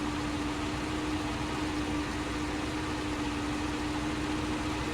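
A truck engine idles steadily in the Snowrunner game, a constant low rumble with a faint steady hum, loud and unbroken throughout with no talk.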